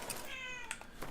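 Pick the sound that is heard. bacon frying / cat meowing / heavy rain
cat meowing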